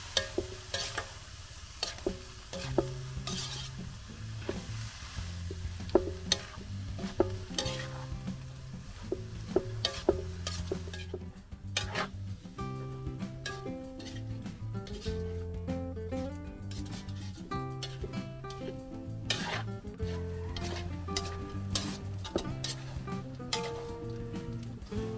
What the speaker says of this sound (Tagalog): Halo-haloy lang po yan hanggang sa mula-pula yung hipon na Insan.